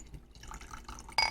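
Liquid poured into a drinking glass, a soft close trickle that builds into a brighter splash and fill near the end.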